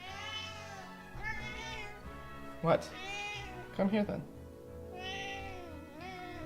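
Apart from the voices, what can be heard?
cat meowing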